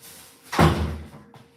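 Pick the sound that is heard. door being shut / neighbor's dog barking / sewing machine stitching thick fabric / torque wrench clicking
door being shut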